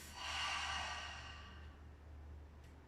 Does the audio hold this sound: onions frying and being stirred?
no